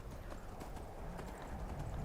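A horse galloping in the video game Skyrim toward the gates of Windhelm, its hoofbeats a quiet, steady clip-clop rhythm against a low, rumbling background, faint and without talking.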